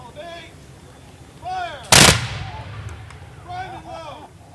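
A musket volley fired at a dawn salute in Concord cracks out as one loud, sharp blast and rolls away in an echo, with faint voices before and after.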